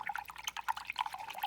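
Paintbrush swished and rinsed in a water cup during a painting session, a close, steady stream of small drips and light splashes with no voices.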